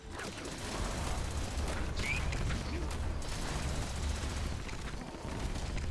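Rapid gunfire from a Fallout 76 firefight rattles on steadily and loudly for several seconds, a dense, continuous barrage with a brief brighter ping partway through and no clear pauses.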